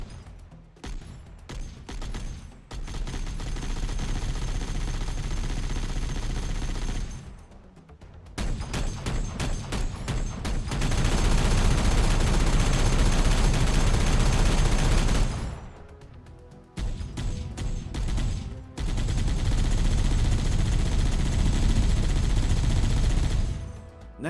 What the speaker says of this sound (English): The machine gun turret's firing sounds would change over time as well.